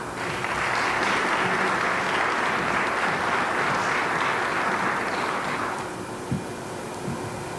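An audience at the Colorado Compact on Immigration event claps loudly and steadily for several seconds, then the applause fades as a few thumps follow.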